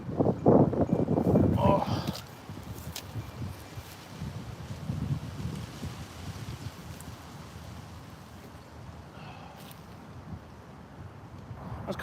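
Strong wind of about 25 mph buffets the microphone on a disc golf course, loudest in a roaring gust at the start and then settling into a steady rushing noise.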